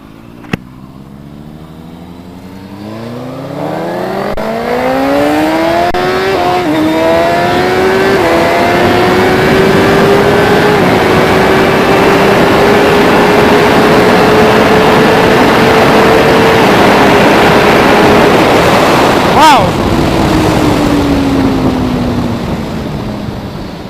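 A 2017 Suzuki GSX-R1000R and a Yamaha R1M sport bike run hard on a closed course, engines rising from idle into a long loud wailing pull with rushing wind, then a sharp shift and a fading note.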